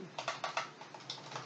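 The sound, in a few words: typing numbers on a computer keyboard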